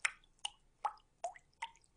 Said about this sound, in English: Now it blows cool air outside and drips water on my office floor.